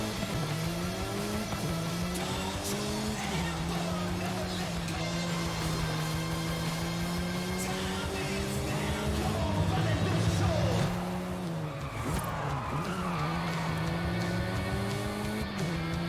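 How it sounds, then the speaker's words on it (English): Car scraping and skidding along a wall in the racing game Forza Horizon 5, with a steady engine drone, harmonic whine shifting in pitch and a brief louder grinding surge near the middle, continuous and close. "That was a controlled skid."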